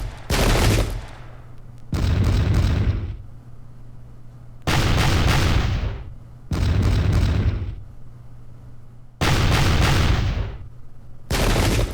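Musket volleys in the video game Pike and Shot: five loud booming bursts of massed gunfire, each crackling roll lasting about a second and ringing out, spaced roughly two seconds apart with short quiet gaps between.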